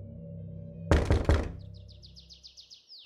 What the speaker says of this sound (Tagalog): Sino na naman kaya yung kumakatok?